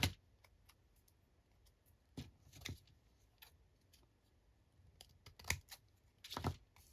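Scissors trim paper to make a faux stamp: a series of crisp, light snips and clicks, some in quick pairs, close and fairly quiet in an otherwise still room.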